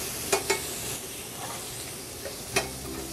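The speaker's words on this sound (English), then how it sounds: "We want to get the outside seared." Chicken searing in a hot pan before going into a 375-degree oven, giving a steady close sizzle with a few brief sharp spatters and clicks, no voices.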